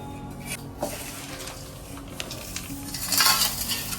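Dry chivda, a Diwali snack, is tossed and mixed in a metal pan at home, giving a continuous rustling, scraping clatter of flakes against the pan that grows louder and busier toward the end.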